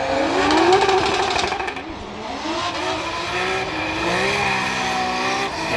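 A Nissan S15 drift car at a Formula Drift Pro 2 event in Atlanta, engine screaming and bouncing off the rev limiter with tires squealing through a skid, loud and continuous for the whole stretch.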